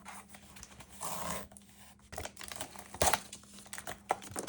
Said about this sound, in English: So let's peel the sticky back.